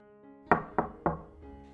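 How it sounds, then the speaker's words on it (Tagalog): Three firm knocks rap on an office door in quick, even succession, each a crisp close thud over a faint sustained tonal background. "Kumatok siya ng 3 beses."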